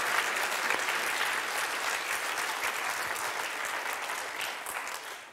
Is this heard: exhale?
no